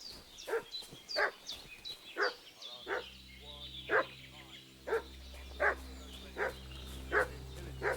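Dog in Kingdom Come: Deliverance II barking in a rhythmic series of about a dozen sharp, evenly spaced barks, fairly close, over a low steady ambient hum.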